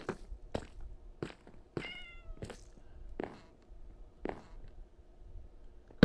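Several short Minecraft cat meows, repeated at irregular intervals, clear and fairly close over a soft steady ambient background with occasional light thumps.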